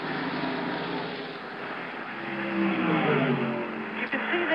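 NASCAR race cars at Atlanta Motor Speedway during the Atlanta 500, a muffled, continuous engine roar from the pack that swells slightly toward the end, with commentators talking over it.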